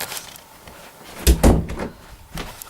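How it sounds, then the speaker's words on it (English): A room door is pushed shut with a soft thud and a second bump of the latch, close by and fairly loud, set against quiet room noise with no talk. "let me just shut my door"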